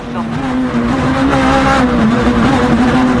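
Rally car driven hard through a left hairpin at the Rallye Lyon-Charbonnière, engine howling steadily at high revs with tyre noise, loud and close from the cockpit, with a voice speaking over it.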